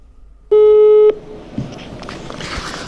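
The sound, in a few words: telephone ringing tone while calling someone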